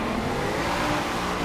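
A 1997 Land Rover Defender 90 drifts in a racing video game, its engine roaring steadily under hard revs with tire noise in a dense, continuous, loud blend.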